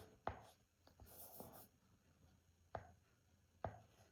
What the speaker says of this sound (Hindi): जैसे यहाँ मैं लिख देती हूँ